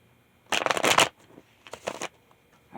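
Tarot cards being shuffled by hand in two quick riffling bursts, close and crisp, with a short pause between them and no talk.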